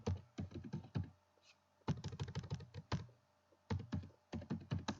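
Fingers type quickly on a computer keyboard, close and crisp, in three bursts of rapid key clicks separated by short pauses, with no talking.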